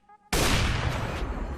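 TNT explodes in the video game Struckd, a sudden loud, close blast that bursts in after a brief quiet moment and rumbles on without fading.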